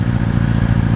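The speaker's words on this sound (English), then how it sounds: "little drag race. Gixxer versus Suzuki. Antique Suzuki." A loud, close motorcycle engine drones with a steady rapid clatter during a drag race between a Suzuki Gixxer and an antique Suzuki, with no voices heard.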